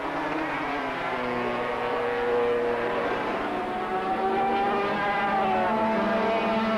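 500cc racing motorcycles scream down the straight at a 1985 ARRC race, a steady, loud, high-pitched engine whine that holds continuously with slight shifts in pitch as they pass.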